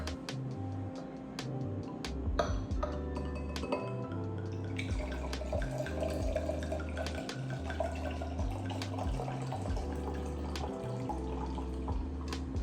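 Wine pours into a glass with a continuous trickling, gurgling stream, close and fairly quiet, over steady background music with a pulsing bass line.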